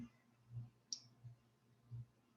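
A computer mouse right-click during spreadsheet work comes through as a single faint, sharp tick over soft low room hum, with a few duller soft knocks around it.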